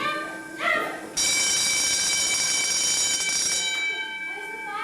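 Fire alarm bell rings loudly and continuously for several seconds with a bright metallic clang, starting suddenly after brief indistinct voices and fading slightly near the end.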